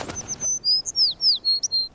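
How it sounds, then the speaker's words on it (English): A sparrow chirps in a quick series of bright, high calls that come close together, with a short burst of fluttering wings at the start and no talking. "a sparrow comes flitting back into the window"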